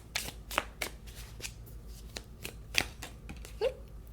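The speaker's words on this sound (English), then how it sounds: "Now I just want to grab some tea leaf cards." Tea leaf oracle cards are handled and shuffled by hand, giving a run of crisp papery slaps and flicks at an irregular pace, close and fairly quiet, with a short scrape near the end.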